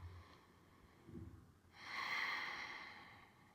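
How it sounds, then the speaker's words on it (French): Breathing during a beginner yoga core-strengthening exercise, with a soft short breath early on, then a long, breathy exhalation swelling in the second half, close and quiet with no talking. "Quatre respirations. Expire."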